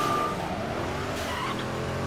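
Racing cars in Midnight Club 3: DUB Edition Remix, a Saleen S7, Dodge Charger and Lotus Esprit, engines droning steadily with a brief tire squeal, moderately loud with no talking.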